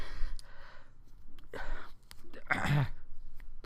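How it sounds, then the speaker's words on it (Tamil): A person stifles a sneeze: short breathy sniffs and gasps, then a muffled, held-back burst, close to the listener and fairly loud. "சாரி, தும்மல் ஒரு மாதிரி இருக்குது"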